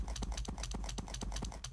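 Video game horse hooves clip-clopping in a quick, even rhythm, repeated hoof strikes close and fairly quiet, with no talk over them.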